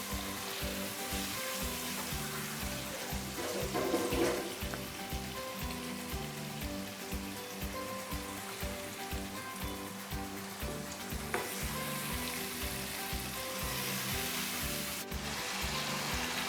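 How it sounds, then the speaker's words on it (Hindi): Masala of spices and tomatoes sizzling in a pan for a ridge gourd sabzi as a little water goes in, a continuous close crackling fry with regular stirring scrapes throughout and no voices. "और थोड़ा सा पानी लगा देंगे इसको।"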